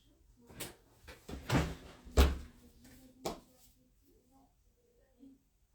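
Inside a sewing shop, a door bangs and rattles through a few sharp knocks and one heavier thud, followed by quieter shuffling and faint voices in the background.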